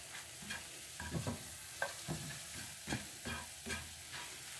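Augason Farms powdered eggs frying in plenty of butter in a pan while being stirred, with soft sizzling and repeated scraping strokes of a utensil at an uneven rhythm, close by and without voices.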